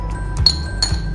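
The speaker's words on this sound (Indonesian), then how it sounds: "Mangkok kedua juga diisi yang sama es batunya" Ice cubes dropped into a bowl in a classroom science demonstration, giving a few sharp glassy clinks spaced apart over a quiet background, close and fairly faint.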